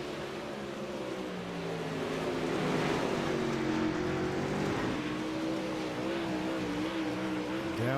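Dirt late model race cars at speed on a dirt track: a loud, continuous, buzzing engine drone that rises and holds steady throughout, with no voices.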